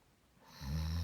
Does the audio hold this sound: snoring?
yes